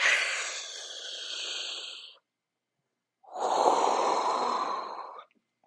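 Two long, loud, deliberately exaggerated deep breaths, one drawn in and one pushed out, with a short silent pause between them and no voices.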